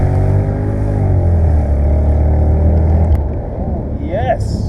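A Mercedes-Benz SL500 accelerates at full throttle, its engine note a loud, close, sustained drone heard from inside the car that holds steady, then eases off near the end.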